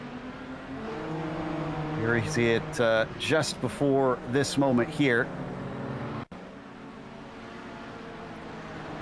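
A race car engine drones steadily in the iRacing sim at Barber Motorsports Park during a Kamel GT Championship round, running continuously beneath a commentator's voice.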